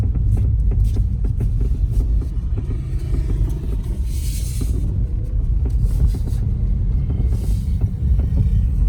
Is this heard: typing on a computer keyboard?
no